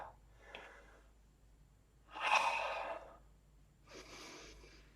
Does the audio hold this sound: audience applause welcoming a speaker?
no